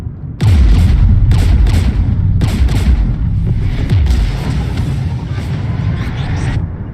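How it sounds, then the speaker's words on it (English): Gunfire and artillery blasts in Mass Effect 3, a loud, continuous barrage of booming shots and bursts rolling on for several seconds with no pauses, alone without voices. "We're taking fire."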